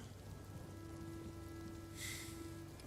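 Rain and thunderstorm ambience plays as a low steady hiss of rainfall, with a brief brighter wash of heavier rain or a distant rumble near the end. The whole bed sits faint and distant, with no voices.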